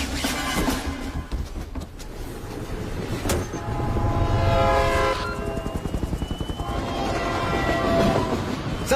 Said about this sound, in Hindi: सर, ट्रेन टनल के अंदर एंटर हो चुकी है।